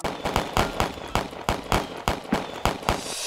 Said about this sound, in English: Go ahead and fire.